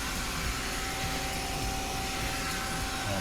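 A Mazak CNC machine running a rapid move, giving a loud, steady, broadband whirring roar with a faint constant whine and no pauses.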